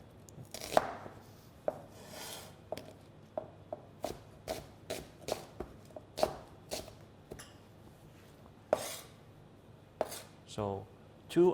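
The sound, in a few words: roughly slicing onions with a knife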